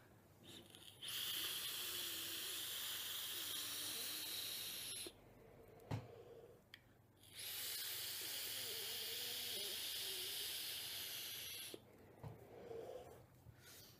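A hissing draw pulled through an e-cigarette fitted with an Alliancetech Vapor topcap. Two long, steady, fairly quiet hisses are separated by a pause that holds a small click and faint breath sounds.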